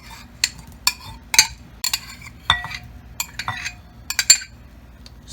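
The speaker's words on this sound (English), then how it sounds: "I'm going to take the strawberries and put them in this big bowl" Strawberries dropped into a big bowl with light clinks and soft thuds, a scattered series of close, bright taps against the bowl with quiet pauses between them.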